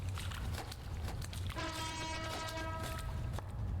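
A train horn sounds in a long sustained toot mid-clip over a rumbling, noisy backdrop in a horror video game.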